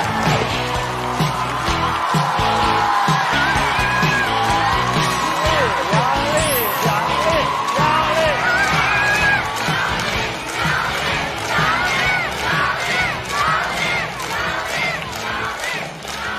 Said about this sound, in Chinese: 掌声欢迎杨幂